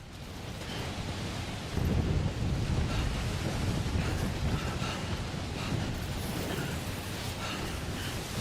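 Strong wind roars across the landscape in Death Stranding, a loud, continuous broadband rush that surges stronger after a couple of seconds and keeps blowing steadily without letup.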